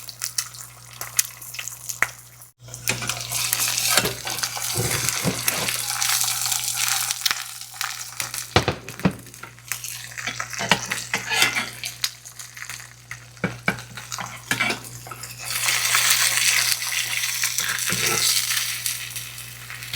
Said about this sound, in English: This time we're going to fry our egg